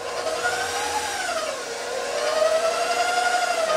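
Buttermilk pancake batter is whipped with a small electric mixer, a steady whirring motor hum that wavers in pitch midway and then picks up slightly, running alone without talk.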